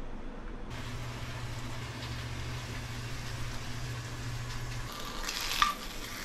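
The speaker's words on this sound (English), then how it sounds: "I'm just going to warm up a slice of ham really quick" A slice of ham warms in a pan with a steady soft sizzle, a low hum running beneath for most of the stretch and a brief clink near the end.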